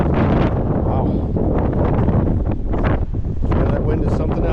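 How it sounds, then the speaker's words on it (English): Strong wind buffets the microphone in loud, continuous gusts at an outdoor auction of a collection of tractors, roaring and rumbling with brief surges. "that wind is something else"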